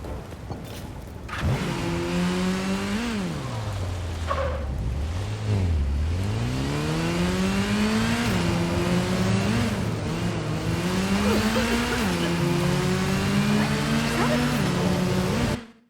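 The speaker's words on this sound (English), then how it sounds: "Where's my Bat motorcycle?" The Bat motorcycle in the Gotham Knights video game revs its engine repeatedly. Loud, close pitch sweeps rise and fall as it accelerates and shifts, holding steady for the whole stretch before cutting off abruptly.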